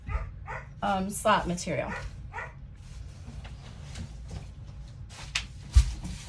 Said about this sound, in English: We'll just have to deal with the dog barking